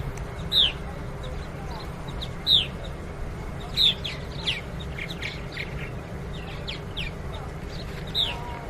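A bird gives sharp, high chirping calls at irregular intervals while being pulled from a nest gourd during research tagging, heard over steady low background rumble and nearby activity.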